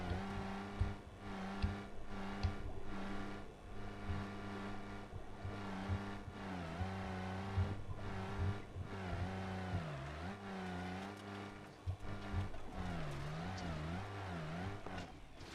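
Engine drone of a skid-steering tracked vehicle in a video game, a steady harmonic hum that rises and dips in pitch as the tracks turn and throttle shifts, continuous and fairly close throughout.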